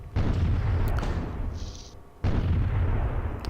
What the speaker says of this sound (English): If I move forward, I expect the artillery will fire on me.